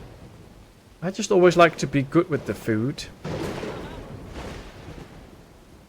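Lightning strikes and thunder in the video game Dawn of Man: a deep booming rumble with crackling rolls rising after someone speaks, then fading into a long distant roll.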